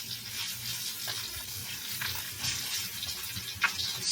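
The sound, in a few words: salmon fillet pan-frying in a pan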